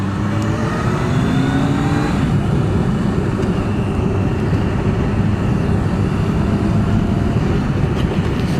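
Kawasaki GTR1400 motorcycle engine accelerating hard, a loud continuous roar with rising pitch and heavy wind noise, sustained throughout with no talking.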